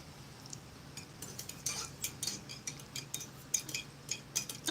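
A metal spoon stirs cocoa in a 1988 US MRE cup, making a run of light, irregular clinks and scrapes close by. They repeat over a soft background with no talking.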